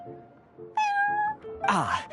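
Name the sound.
cat meowing in Genshin Impact, video game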